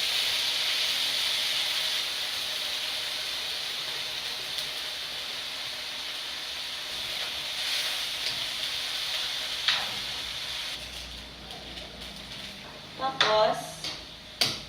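Soy sauce and vinegar sizzle and hiss steadily in a hot cooking pan, a broad continuous frying hiss that softens toward the end, with a few sharp clinks and knocks near the close.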